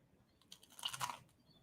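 A single crisp crunch as teeth bite into a raw coconut thin, brief and close, with soft chewing noise around it and no voice.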